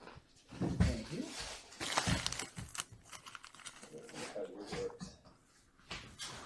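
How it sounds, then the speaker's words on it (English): A dog pants and gives soft whimpers close by, mixed with crinkling and rustling handling noises while people talk quietly over it. "That's a nice doggy."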